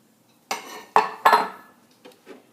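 Egg cracked against and added to a mixing bowl of creamy cookie dough, with a few close clinks and taps on the bowl followed by softer knocks, with no talking.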